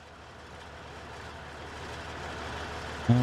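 Tractor engine in Farming Simulator 19, a low steady drone that slowly rises in loudness as the machine drives off, ending with a short bump.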